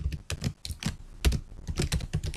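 Close, brisk typing on a computer keyboard: irregular bursts of sharp key clicks with brief pauses between them, with no voices.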